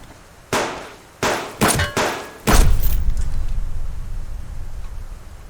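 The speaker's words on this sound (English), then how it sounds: "You can stop shooting me right away." Gunfire in a video game aimed at the player: four loud close sharp metallic reports with uneven gaps, the last trailing into a low rumbling decay, no talk.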